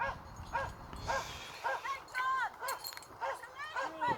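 A young dog named Bruce barking and yipping in short repeated bursts amid an outdoor crowd at a race, with people talking nearby.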